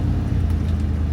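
A box truck on big general grabber tires rumbles as it pulls off-road, a steady low engine drone up close with no talk.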